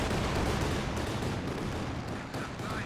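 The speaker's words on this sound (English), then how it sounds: "Artillery fire, kill that thing." Artillery fire in the World War II strategy game Company of Heroes 2: dense, overlapping booms and crackling gunfire blend into a loud, continuous barrage that rolls steadily without any pause.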